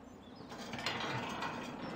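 A barn door mechanism in Farming Simulator 17 rattles and clicks open, a faint ratcheting, pulley-like whir running steadily for about two seconds over quiet background.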